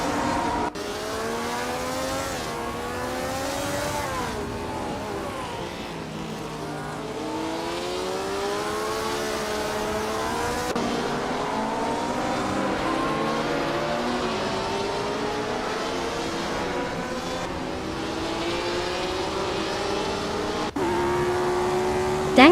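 Race cars at Brands Hatch in a racing video game, including a 1962 Porsche 804, howl continuously as several engines rise and fall through gear changes, loud and sustained with no speech.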